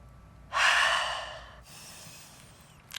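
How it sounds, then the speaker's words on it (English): A big open-mouthed exhale during a gentle yoga practice, one long, loud, breathy release that fades slowly, followed by a softer second breath out. "Take a big breath in. An open mouth exhale"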